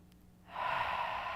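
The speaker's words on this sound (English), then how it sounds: "Take a big breath in." A single deep breath drawn in, a soft airy rush that swells and holds steadily, close and quiet with no talking, during a guided stretching and relaxation session.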